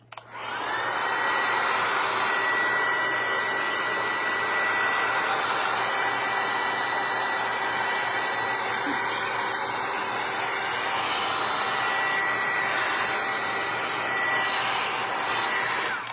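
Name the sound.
dryer drying painted decoupage tray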